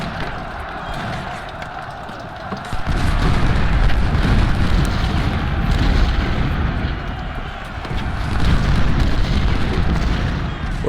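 Massed musket and artillery fire from a Civil War battle at Antietam in Ultimate General: Civil War. A dense, continuous rumble of volleys and booms swells and surges loudly throughout, with no pauses.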